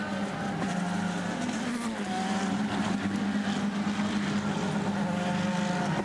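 An IndyCar engine droning steadily at high volume as the car rolls into the pit area at Sonoma during 2010 qualifying, a sustained buzzing roar with a slight dip in pitch partway through.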